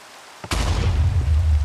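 A sudden small explosion bursts out while blaze powder is crafted in a video game, a sharp broadband boom that settles into a loud, sustained rumbling roar.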